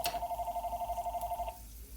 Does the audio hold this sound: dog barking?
no